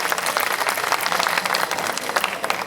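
An audience at a formal welcoming ceremony for local officials claps steadily, a dense, even wash of applause throughout, without speech.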